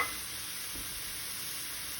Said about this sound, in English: I'm gonna add my 1 clove of garlic and my half an onion.